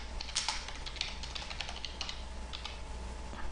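Code typed on a computer keyboard, a rapid irregular run of soft key clicks close by over a low steady hum, with no talk.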